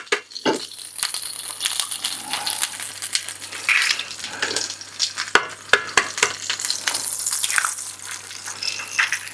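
Eggs fry in melted butter in a pan, giving a steady close crackling sizzle with scattered pops and a few scraping stirs, without any talk.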